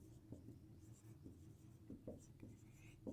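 Faint pen scratching on paper during a math lesson, soft strokes repeating in short bursts under quiet, whispery background.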